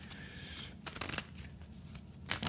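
Tarot cards being shuffled by hand, a soft papery riffle with a few sharper snaps, close and quiet with no talking.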